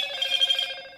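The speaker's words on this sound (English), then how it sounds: "That was just my phone" A mobile phone ringtone plays alone, a bright tonal electronic chime with steady harmonics that trails off after about a second.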